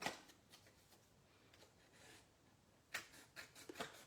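Scissors cut a hole out of the middle of a piece of cardstock for a reindeer card, giving faint, crisp papery snips in short irregular bursts with quiet pauses between them.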